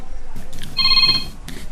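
A cellphone rings in an office, its steady electronic tone repeating for about half a second under background noise and faint voices.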